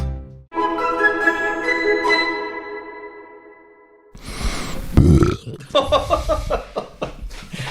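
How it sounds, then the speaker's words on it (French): A man lets out a long, loud, resonant burp on command, lasting several seconds up close, followed by laughter and lively voices. "Charles rote sur commande"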